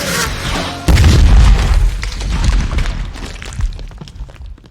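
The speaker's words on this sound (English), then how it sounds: "Frank Castle just absolutely obliterates one of them with a rocket launcher" A rocket launcher blast from a Marvel film scene hits with a loud, deep boom, then rumbles and crackles with scattered debris as it slowly fades.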